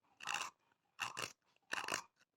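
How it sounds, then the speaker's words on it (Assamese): Three crisp, crunchy cuts into areca nut (tamul) with a blade, evenly spaced with short pauses between them, close and clear with no talking. "এয়া তামোল কাটি আছোঁ"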